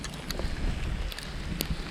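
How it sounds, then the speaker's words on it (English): A Kress KG471 60V battery snowblower runs outdoors, giving a steady close rushing drone with wind-like noise and a few brief clicks over two seconds. "This is typical performance of the Kress blower"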